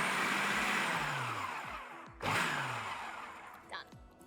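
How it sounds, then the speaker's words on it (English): Food processor pulsing biscuit crumbs with butter for a lemon cheesecake base, two loud whirring bursts that spin up and wind down, the second followed by a short rattle. "Now let's put the lid back on and then we'll pulse to combine."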